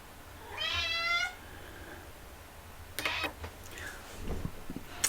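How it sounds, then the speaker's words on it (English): A pet cat meows in a drawn-out, harmonic wail near the start, upset after someone in the household stepped out; a few softer indoor knocks and rustles follow in a quiet room. "my cat is having a fit because hubby went to take the trash out and she does not like it when one of us leaves"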